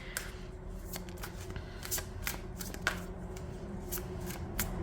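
Tarot card deck with holographic edges being shuffled by hand, a run of quick papery riffles and soft taps, close up and quiet, with no talking.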